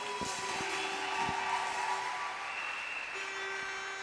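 A church congregation applauds, steady clapping that sounds somewhat distant and fairly faint, with a sustained tone and a few sharp thuds running alongside.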